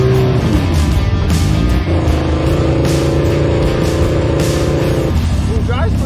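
The Monster Chopper and the Hayabusa custom car pull away together, their engines droning and revving close by in a steady, loud roar, with a person talking over them.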